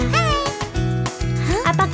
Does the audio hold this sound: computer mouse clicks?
no